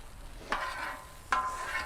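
Sliced cheesesteak beef scraped and flipped on a hot griddle, giving two short bursts of sizzling scrape about a second apart over a steady low frying hiss.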